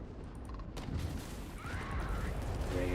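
Missiles launch from a spaceship during combat in Starfield, a steady dense rumble of firing and mechanical whooshes with a rising tone near the end, loud and continuous.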